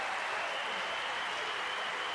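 Sustained applause from a snooker crowd at the German Masters final, a dense, steady clatter of many clapping hands with no break, filling the room loudly.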